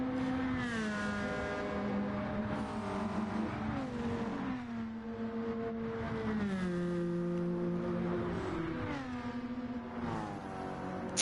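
Gr.4 race cars from Mercedes, BMW and Nissan racing at Watkins Glen in Gran Turismo 7, engines screaming steadily with repeated gear-change pitch drops and rising revs, loud and sustained with several cars overlapping.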